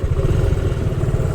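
A motorcycle engine held on light throttle for engine braking on a road in Aguilar, Pangasinan, a steady close mid-pitched drone with a rough, pulsing texture and no voices.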